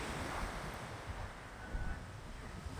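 Sea surf washes steadily onto the shore near Tiruchendur temple, a continuous broad roar of waves mixed with buffeting wind noise on the microphone, with no voices.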